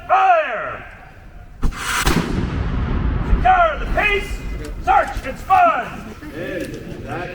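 Historical artillery cannon fired in a demonstration at Jamestown Settlement: one loud boom that rolls on into a long echoing rumble, with people talking before and after it.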